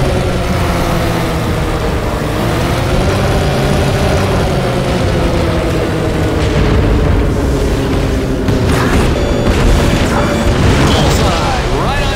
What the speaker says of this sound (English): Commence rocket attack.